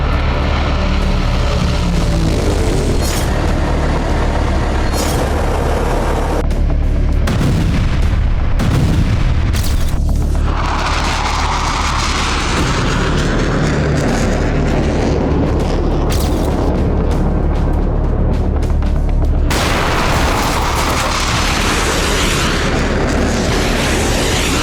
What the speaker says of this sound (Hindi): आसमान में भीषण ब्लास्ट